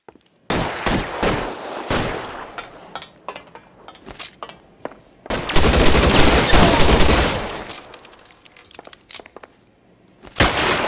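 A shootout in the crime video game L.A. Noire, with loud sharp pistol and rifle shots and rapid volleys, plus a long dense burst of fire near the middle, close and punchy, with no talking.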